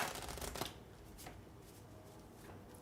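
A boss deck of cards for the Astro Knights: Eternity board game gets shuffled close by, a brisk riffling burst at the start that trails into quieter handling.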